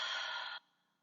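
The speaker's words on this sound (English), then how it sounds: "Dump the breath out." One strong breath pushed out during a yoga exercise, close and breathy, lasting about half a second before cutting off to near silence.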